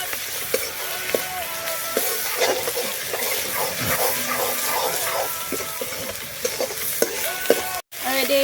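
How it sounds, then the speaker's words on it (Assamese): Chopped onions frying and being stirred in a pan until golden brown for chicken curry, a steady close sizzle with repeated scraping and clinking of the spoon, ending in a brief cut. "চব পিঁয়াজখিনি ধুনীয়াকৈ গল্ডেন ব্ৰাউন কৰি ল'ম"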